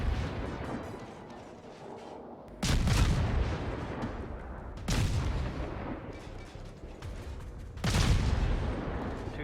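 Soviet Tier V destroyer Gnevny's guns in World of Warships fire three heavy booming salvos a few seconds apart, each a loud blast with a rumbling tail, under a continuous low roar.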